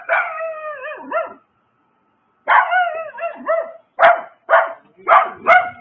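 A dog lets out a run of yelping, whining barks: a drawn-out whimpering call, a pause, then several sharp, close barks in quick rhythm.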